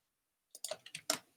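A computer mouse gives a quick cluster of four or five crisp clicks, close and fairly quiet, after a moment of silence.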